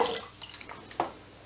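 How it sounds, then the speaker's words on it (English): Hot water pours and splashes into a pot over soaked soybeans, a soft continuous liquid wash with a few brighter drips and splashes, fairly quiet and close. "filling with hot water just so that it submerges the beans"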